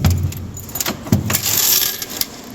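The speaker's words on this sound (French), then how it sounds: "Vous voyez, c'est que des pièces" Coins from a table football coin box being handled, heard as close metallic jingling and clinking. A few sharper knocks stand out over a steady rattling background.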